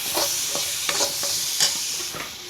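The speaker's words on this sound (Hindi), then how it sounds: "अब देखिए हम यहाँ पर डाल रहे हैं टॉप्स की ग्रीन चिली सॉस" Tops green chili sauce goes into macaroni pasta in a hot pan, giving a close, continuous sizzle with soft scraping stirs and small spoon taps scattered throughout, without talk.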